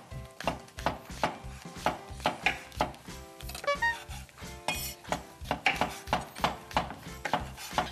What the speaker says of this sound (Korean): 일단 써는 것부터 먼저 할게요